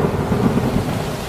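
Sudden heavy rain with rumbling thunder in a Filipino animated cartoon about a typhoon, a dense, steady roar with a low rumble underneath and no voices.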